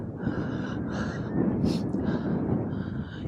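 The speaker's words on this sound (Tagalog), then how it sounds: "Hinihingal ako" Heavy, breathy panting from a hiker climbing Mt. Olis in cold mountain air, steady ragged breaths close to the mic with wind rushing across it.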